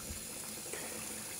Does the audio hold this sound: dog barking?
no